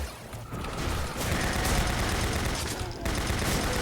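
Sustained automatic gunfire from a mobile turret in the Doom 64 for Doom 2 game, a dense, loud, continuous clatter of rapid shots with brief dips, mixed with in-game action noise.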